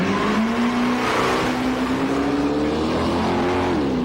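A Windsor Ford-engined Mercedes roars at full revs in a burnout competition at Summernats, its loud, sustained engine note holding high and steady with only slight pitch swells throughout.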